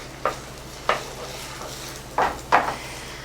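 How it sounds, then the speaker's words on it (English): Eggs scrambled in a pan with a wooden spoon, set against a low steady sizzle, with four distinct scraping strokes of the spoon spaced irregularly across the pan, close and clear with nobody talking. "I'm just going to scramble these up."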